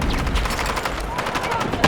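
Heavy gunfire crossfire in the shooter Battlefield 6, with close, rapid overlapping bursts of automatic weapons firing almost nonstop, and a voice briefly talking over the shots.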